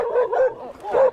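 A dog barks and yips repeatedly as it chases a mountain biker on a trail, the yelping calls loud and close, coming in several bursts over about a second.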